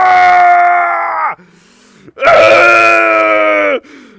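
A long, strained scream from a voice actor dubbing the Ace Attorney video game, loud and close, held in two drawn-out bursts separated by a short pause.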